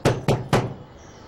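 Three firm knocks on a door, evenly spaced within about half a second, close and distinct, followed by quiet room tone.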